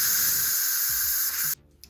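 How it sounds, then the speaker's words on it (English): Steam hisses loudly and steadily from an Instant Pot pressure valve while chicken noodle soup cooks, a close, bright continuous rush that cuts off abruptly near the end, leaving faint clicks. "it's finished letting the steam out"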